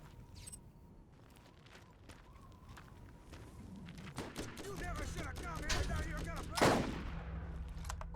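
Gunfire in the video game Borderlands, a burst of rapid shots building in the second half with one louder crack near the end, over ambient game noise and mechanical creaks.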